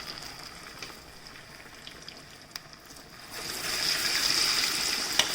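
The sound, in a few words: falafel frying in oil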